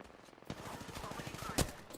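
Gunfire in the battle game Apex Legends, a clustered burst of shots with one sharp loud crack near the end, over a busy game soundscape with a voice present.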